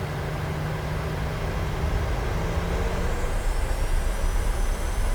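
Simulated PMDG 737-800 freighter jet engines roaring on the takeoff roll in MSFS 2023 flight simulator, a steady broadband rumble with a rising whine, loud and continuous throughout.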